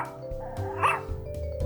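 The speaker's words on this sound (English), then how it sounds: "Mona, my trusty crime-finding dog" Mona, a pet dog, gives a few short, moderately close barks and yips spaced across the moment, with a high whimpering yelp in the middle, under a low background hum and no speech.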